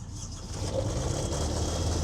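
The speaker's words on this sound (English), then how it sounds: "go ahead and fire up our air compressor generator on it" An air compressor generator on a military service truck cranks over and catches, its engine building into a steady low rumble that holds close and fairly loud.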